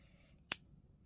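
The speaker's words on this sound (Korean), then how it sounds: "이렇게 해서 이제 실은 잘라 주시고요" A single crisp snip of scissors cutting merino cotton yarn during crochet work on a beanie, close and brief, standing alone against a quiet background.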